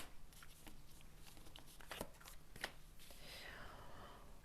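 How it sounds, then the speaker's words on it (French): Oracle cards being laid out and shuffled, soft papery slides and light taps near and quiet, with a faint murmuring voice underneath. "On continue de dérouler les cartes"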